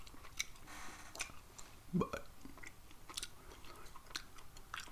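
Soft, moist gum chewing close to the mic in a quiet room, with irregular small clicks and smacks and one louder chomp, a brief spoken word in between.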